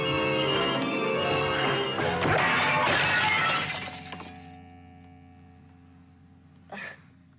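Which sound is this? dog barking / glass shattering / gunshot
glass shattering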